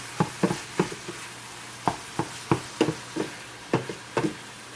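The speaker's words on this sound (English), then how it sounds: "ground meat stir. Just mix that on in there with everything." Ground turkey frying in canola oil for dirty rice is stirred with a utensil, giving repeated irregular scraping knocks against the pan over a low steady sizzle, fairly close with no talking.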